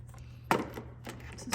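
Keys jangling while a post office box is opened: a few short metallic clinks and rattles up close, spaced across a moment, over a low steady hum.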